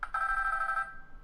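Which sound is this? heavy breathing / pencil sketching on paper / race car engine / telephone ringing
telephone ringing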